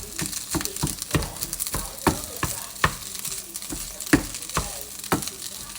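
Food fries in just a little oil in a pan, a close, steady sizzle broken by regular scraping stirs about every half second, with no voices.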